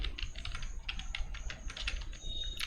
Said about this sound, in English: I'll select everything and then press the delete key